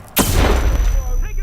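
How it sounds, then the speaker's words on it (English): A single loud gunshot cracks out up close in the Hitman video game, its sharp burst trailing into a long rumbling echo that rolls on for over a second. "Some gun-toting idiot is discharging a firearm."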